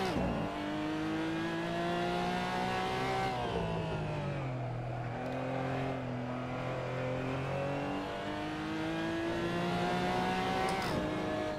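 A Porsche GT4 race car in Assetto Corsa at Laguna Seca, its engine note revving up and down through gear changes with rising and falling harmonics, loud and close throughout, with no talk.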